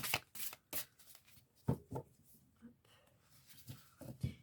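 Tarot cards being shuffled by hand, a run of soft crisp riffling bursts and flicks, close and quiet, with someone speaking French over parts of it.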